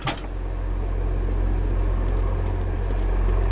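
A car lift ramp rises in the garage of Car Mechanic Simulator 2014, a steady low mechanical rumble that holds at an even level from start to finish.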